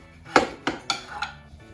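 Small vintage pots in a mid-century modern house are handled, giving four distinct close ceramic clinks and knocks in quick, uneven succession, no talk over them.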